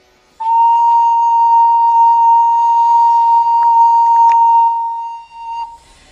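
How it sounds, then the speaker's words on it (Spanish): A single sustained B flat on a recorder, a clear, steady, pure whistling tone held loud and alone for about five seconds before stopping. "Este es el sonido de si bemol."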